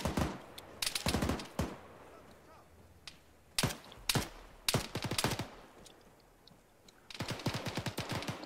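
Bursts of automatic gunfire and scattered single shots crack out in Arma 3 combat, some rapid strings close by, others sparser, with quiet gaps between volleys.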